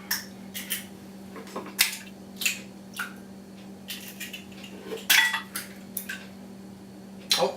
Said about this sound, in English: so 4 eggs into the bowl